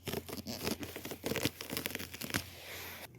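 Agribon row cover fabric being cut from a roll one-handed, giving a close run of crisp tearing and crinkling rustles in uneven bursts, with no talking.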